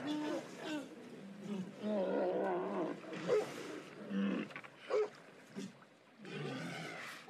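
Walruses in the Arctic, resting on ice floes and small islands between dives, give deep roaring, groaning calls. The calls come in several uneven bursts with short gaps, moderately close.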